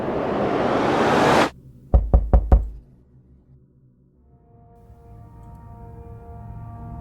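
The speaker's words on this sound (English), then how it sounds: "there was a knock at my front door" Four firm knocks land on a front door in quick even succession, loud and close, right after an abrupt cut from a rushing noise, followed by a quiet, faintly humming room.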